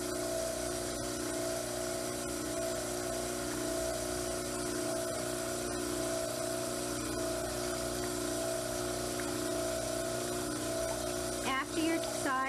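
A dental model trimmer grinds steadily against the side of a plaster dental model, a continuous motor whine with a wet, buzzing edge that stays level and close throughout.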